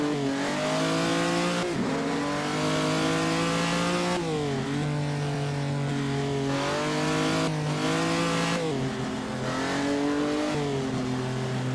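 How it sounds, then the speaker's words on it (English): A 1948 Grand Prix race car engine in Assetto Corsa at the Naples circuit howls continuously at high revs, its pitch climbing and then dropping sharply at each gear change, loud and alone with no voices. "Okay, don't overrev the engine."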